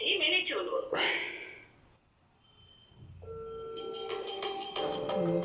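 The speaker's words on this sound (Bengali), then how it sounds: "যে বাংলাদেশের নাম্বার ডায়াল করলাম, কল চলে যাচ্ছে।" A Huawei Watch 3 smartwatch placing an outgoing phone call: brief speech at the start, a short quiet gap, then a repeating electronic ringback tone with beeps, close and moderately loud.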